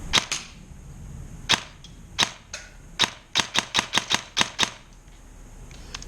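An airsoft Scorpion Evo3 A1 fires single semi-automatic shots, about a dozen sharp close cracks, spaced slowly at first and then in a quicker, fairly even run, with no talking.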